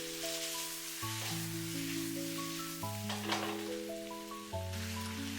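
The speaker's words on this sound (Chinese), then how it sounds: "把豬血和豆腐直接倒在鍋中，快速翻炒均勻" Pig blood and tofu stir-fried in a wok give off a steady, even sizzle and hiss that runs throughout, set beneath melodic background music.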